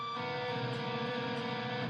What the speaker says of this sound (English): you're playing a B flat against it, so it sounds like this.